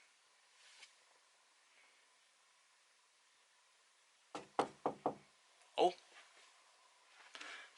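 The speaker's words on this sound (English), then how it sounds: "someone's at my door" Knocking on a home door, a quick series of four firm raps followed by a louder single knock and a later softer tap, close and distinct against a quiet room, with a brief spoken word.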